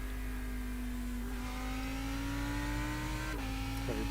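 Lamborghini Huracan GT3 EVO race car in the iRacing sim, with a steady, droning engine note that rises gradually, then briefly shifts pitch twice near the end, continuous and fairly faint with no talk.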